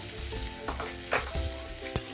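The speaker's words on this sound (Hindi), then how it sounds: "यही तेल में हम जो आलू रखे हैं हाफ बॉयल करके वो भी हम फ्राई करके ले लेते हैं अच्छी तरह डाल करके।" Half-boiled potatoes frying in hot oil with salt and turmeric, a continuous sizzle with a few stirring clatters, close and unaccompanied by speech.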